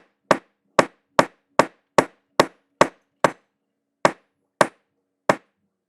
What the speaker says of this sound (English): I didn't want to hammer it completely flat because I do like the way some of that's lifted up